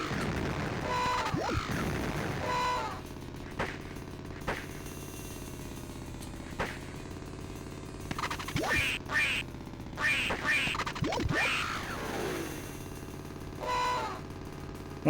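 Retro Duck Hunt on a classic game console: electronic quacks recurring several times over 15 seconds, mixed with sharp percussive shot blasts and clustered bursts midway, looping chiptune game music underneath, no talking.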